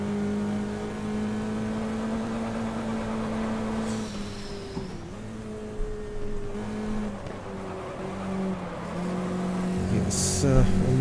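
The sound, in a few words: race car engine during a race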